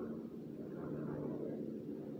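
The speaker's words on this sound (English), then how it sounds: "Got the police helicopter flying over us" Police helicopter flying overhead, a steady low droning rotor and engine rumble that holds at a constant moderate level throughout, sounding somewhat distant and muffled.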